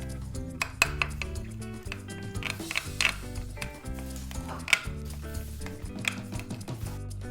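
Malai kebab marinade being mixed with two spoons of butter in a bowl, giving repeated clinks and scrapes of a spoon against the dish over steady background music, with no talking.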